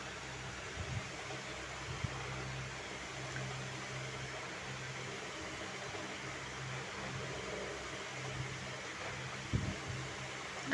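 An electric fan blows over a cooling carrot and semolina dish, giving a faint, steady whooshing hum with a few soft knocks and rustles and no talk.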